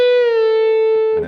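Electric guitar note bent up two frets, a single sustained tone with a slight upward pitch glide, clean and close, ending with a short pick noise.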